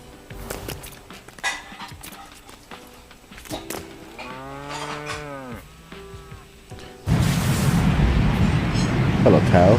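A cow moos in a video game, its long harmonic calls rising and falling near the middle, among other game sounds and a few sharp hits, before a loud noisy burst takes over at the end.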